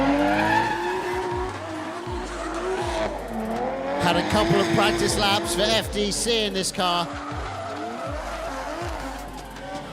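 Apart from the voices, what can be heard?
drift car skidding, tires squealing at D1GP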